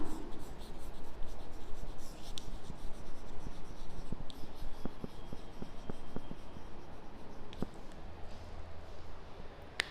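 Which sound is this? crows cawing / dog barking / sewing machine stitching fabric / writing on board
writing on board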